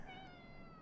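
Cat meowing inside the horror video game Conarium, a steady drawn-out tonal cry lasting under a second, clear and fairly close over a low ambient hum.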